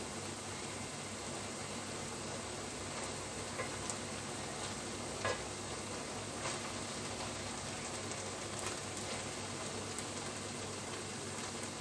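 Chicken pot pie filling is stirred in a hot pan, a dense continuous sizzle with faint occasional scrapes of the spoon against the bottom, steady and close throughout.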